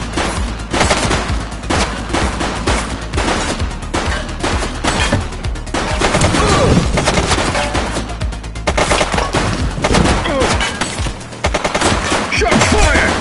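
Loud, sustained automatic gunfire rattles in rapid bursts in the video game The Precinct, dense volleys of shots close by with barely a pause.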